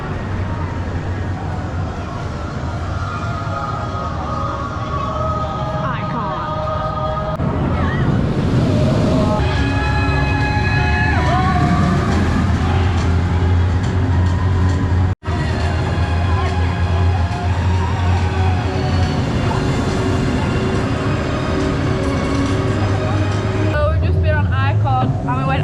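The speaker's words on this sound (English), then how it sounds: "it's a Mack ride multi-launch coaster" Icon, a Mack multi-launch roller coaster at Blackpool Pleasure Beach, heard from on board as a loud rushing roar with wind and rattling track noise, surging through launches and transitions while riders shout and talk over it.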